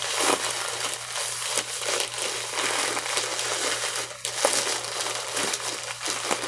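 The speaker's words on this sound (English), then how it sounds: "fold this in half, make this smaller, and get the air out just so that it's a smaller package" A plastic shipping package being folded and squeezed to push the air out, giving continuous close crinkling and crackling that swells and eases as it is pressed.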